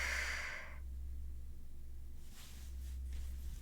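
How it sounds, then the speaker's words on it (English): A female character in the video game Subarashiki Hibi breathes loudly, one long sigh-like exhale up front followed by quieter airy breaths, close and alone over a low steady hum. "You probably just heard her breathing really fucking loudly."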